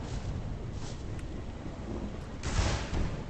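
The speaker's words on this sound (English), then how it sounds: "someone's got hit by lightning" A lightning strike in the game V Rising hits with a broad, rumbling crack over a steady stormy wash of wind and rain, loud and near, with no voices.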